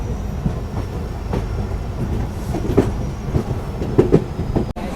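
A Jan Shatabdi Express train running on tracks, with a steady loud rumble and rhythmic clickety-clack of the wheels over rail joints, heard from inside the carriage without any voices.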